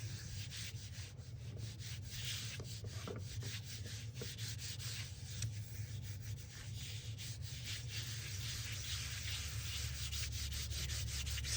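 Steady scratchy rubbing as a transfer is burnished onto slightly textured cardstock, a close, continuous rasping with repeated strokes and no voices.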